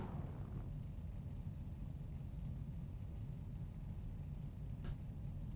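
Pace truck engine idling and warming up at a dirt race track, a steady low rumble that holds throughout at moderate distance with no voices.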